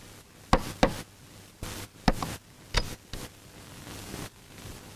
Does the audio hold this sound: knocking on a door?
yes